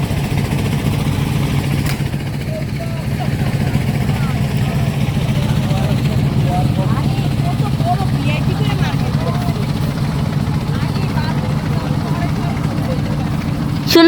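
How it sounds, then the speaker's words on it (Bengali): A speedboat engine droning steadily at night near a roadside beach in Chattogram, a low continuous motor rumble throughout with a person talking over it. "রাতের বেলা স্পিড বোট চলছে"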